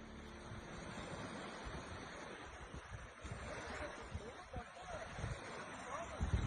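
Incoming tsunami water rushing onto a Turkish shoreline: a broad, continuous roar of surf with wind buffeting the microphone, rising in bursts toward the end, with voices underneath.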